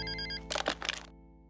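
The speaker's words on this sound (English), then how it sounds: "you have the boss calling you on the phone" Telephone ringing in a video game as the boss calls, a short electronic ring with a buzzy burst in the middle, over a steady tonal background.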